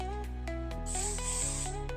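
Hairspray is misted onto back-combed hair with a short, soft hiss that rises and fades, set over steady background music.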